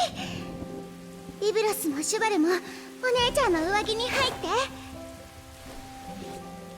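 Heavy rain falls in a steady, dense hiss throughout a scene from the Uma Musume Pretty Derby game, while a voice speaks over it.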